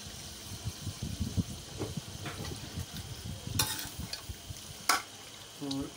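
Mutton fries in a pot with softened tomatoes and whole spices, giving a low, steady sizzle with stirring scrapes and a couple of sharp metallic clanks of a spoon against the pot.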